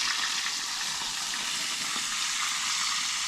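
Beans sizzle in a pan on a propane cooktop inside an ice fishing shack, making a steady, loud hiss that continues without a break and has no voices over it.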